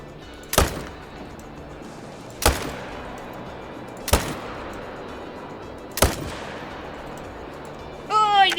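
Rifle shots in a hunting video game aimed at a black bear: four loud, sharp reports at a steady interval, each trailing into a long echoing decay over low ambient noise, with a brief metallic clatter at the end.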